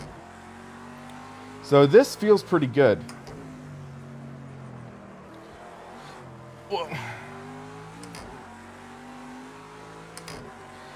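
A race car engine revs in Project CARS 2, a steady droning hum with rising and falling pitch shifts, while someone talks over it.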